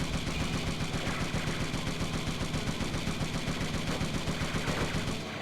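Rapid, continuous machine-gun fire in Twisted Metal 4 driving the Minion vehicle, steady relentless rattling bursts loud and close, running through almost the whole stretch.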